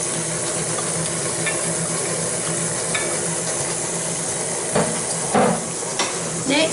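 Carrot cake batter being mixed with eggs, a steady whirring stir with scraping and occasional clinks against the bowl, close and continuous without talk.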